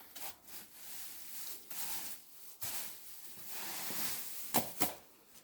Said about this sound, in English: now we get to the point where I sweep that bank out